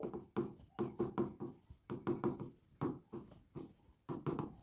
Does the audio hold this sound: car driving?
no